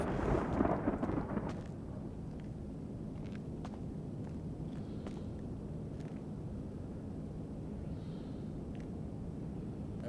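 Thunderstorm in a GTA role-play video game: a low rumble of thunder swells early on, then settles into a steady wash of rain and storm noise with scattered faint taps, no talk.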